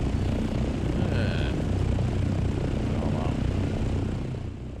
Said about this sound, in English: These choppers are very loud.